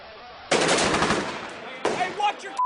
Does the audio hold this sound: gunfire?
yes